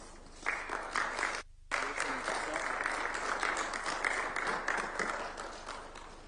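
Sustained crowd applause at a formal state ceremony in Kenya as the President is welcomed, steady and dense throughout with a brief dropout near the start, then continuing loud and even.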